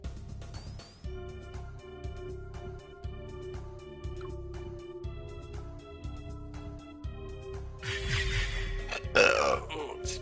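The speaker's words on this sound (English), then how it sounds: "And a burp." A throaty human burp breaks out near the end over steady tower-defence game music with repeating electronic tones and a low pulse; the rest is music alone.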